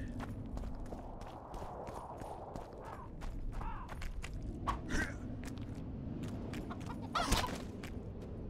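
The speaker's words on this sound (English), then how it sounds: "Oh no, the chickens are mad at me" Chickens cluck and squawk in the video game Witcher 2, several short agitated calls scattered over a muffled background of footsteps and movement, with a louder burst near the end.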